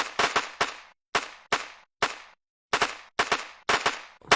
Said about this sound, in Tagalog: Men, may bumabaril sa atin.